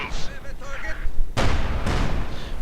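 A StuG assault gun fires in the Company of Heroes 2 game, two heavy booming shots about half a second apart with a rumbling tail. Someone talks just before the shots, and game noise runs underneath.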